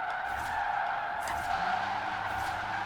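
Electric drift car in Forza Horizon 4 sliding through a drift at night, a continuous loud tire squeal held steady throughout with a faint motor hum beneath.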